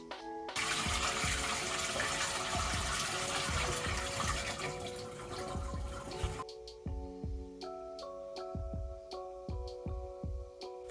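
Water runs steadily from a tap in a Japanese public bathroom, a loud continuous splash that stops abruptly, leaving faint drips and clinks.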